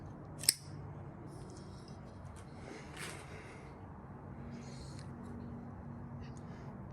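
A Spartan Blades Tonto button lock flipper folding knife, black finished with an S35VN blade, handled up close: a sharp metallic click near the start, then lighter clicks and faint rubbing over a low steady background hum.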